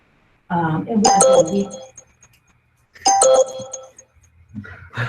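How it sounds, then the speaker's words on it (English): A bright electronic notification chime rings out twice, clear and close, each a short ringing tone, with a brief voice at the very end. "Notifications, sorry."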